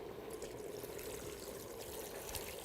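About a gallon of water is poured steadily into a chicken stock pot of root vegetables, a continuous soft rushing stream close by with no voices.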